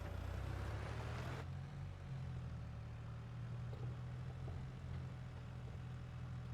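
A Landini tractor in Farming Simulator 22 drives along a road, giving a steady low engine drone with a brief brighter burst at the start and no voices.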